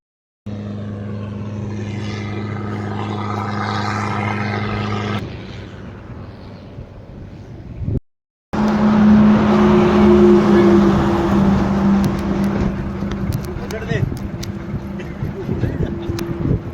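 Motorbike starting off on a solo ride from Coorg to Ladakh, its steady engine drone running loud and close; a short break, then the engine returns with a stronger tone and a sustained hum.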